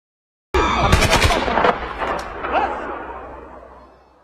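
Gunfire erupts in a film battle as villagers take up arms against terrorists, a loud sharp burst of shots followed by rolling echoing booms that slowly fade out.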